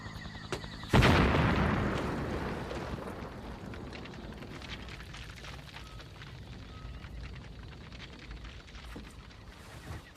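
A blast fired down a tunnel, a sudden heavy boom at about one second that rumbles and slowly decays through the underground space, leaving a long reverberant tail.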